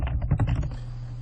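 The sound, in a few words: typing on a computer keyboard to become root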